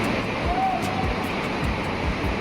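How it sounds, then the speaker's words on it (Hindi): Fast-flowing water of the Bhagirathi river near Devprayag, a steady broad rushing roar with gentle surging pulses, constant and moderately loud throughout. "भागीरथी नदी का जो बहाव है वो हमेशा ही बहुत ज़्यादा"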